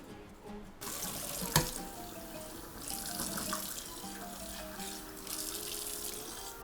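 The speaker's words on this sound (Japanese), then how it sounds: "流水にさらしてしっかりと冷まします。" Tap water runs steadily over food in a kitchen sink to cool it, a continuous splashing stream with one sharp clunk early on.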